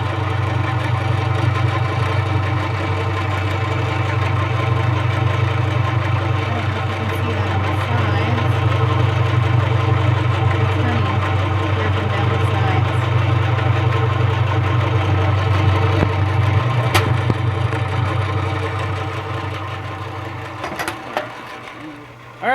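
A honey extractor spins with a steady mechanical hum and rattling vibration that holds for most of the stretch, then slows and fades toward the end.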